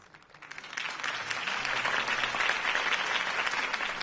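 A video game crowd applauds steadily, dense clapping swelling quickly and holding at full strength throughout.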